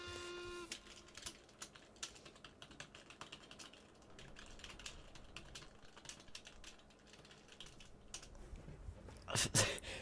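Fast typing on a slanted computer keyboard, a quick irregular clatter of key presses near and fairly quiet, ending in a louder flurry of clicks.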